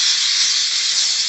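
Dupray NEAT steam cleaner steaming bathroom grout lines: a steady, loud, close hiss of jetting steam runs unbroken throughout, with no voices.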